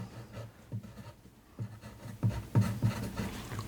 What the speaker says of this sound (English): Now, we're going to write this down.